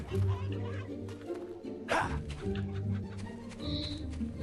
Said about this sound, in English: why is it not letting us kick these chickens?